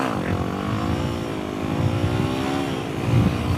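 Yamaha WR250X motorcycle pulling hard in second gear, engine note climbing steadily with a dense buzzing drone and a brief surge near the end, close and loud with no talking.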